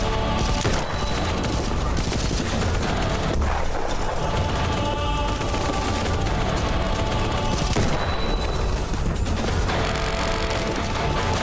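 Rifle gunfire in a video game fires in dense, rapid volleys mixed with crashes and booms, loud and constant throughout with no clear break.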